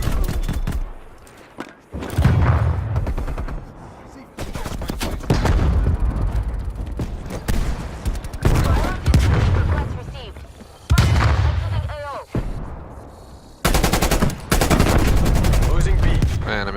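Gunfire in Call of Duty: Black Ops Cold War multiplayer, loud rapid bursts of automatic fire and sharp shots in repeated clusters with brief pauses, with a player talking over parts of it.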